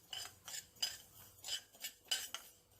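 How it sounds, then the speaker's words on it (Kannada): Mustard seeds tossed into a pan of frying fenugreek for pickle-making, giving a series of light, bright crackling pops and clinks in uneven bursts, fairly faint and close. "ಈಗ ಸಾಸಿವೆ ಹಾಕ್ತಾ ಇದ್ದೀನಿ."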